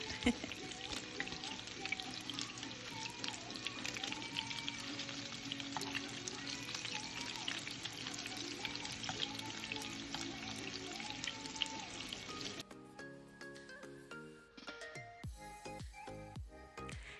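Steady, dense sizzling of meatball-stuffed biscuits frying in a pan, continuous and fairly close, with music playing faintly in the background; the sizzle drops away near the end.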